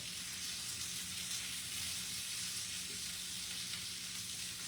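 Smoked sausage fries in a pan with cabbage, a steady dense sizzle and light popping crackle running evenly and close throughout, with no talking.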